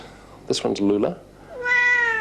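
A house cat named Lula gives a clear, rising meow near the end, after a person speaks briefly nearby; close and fairly loud indoors.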